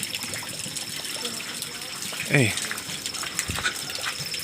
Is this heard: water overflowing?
yes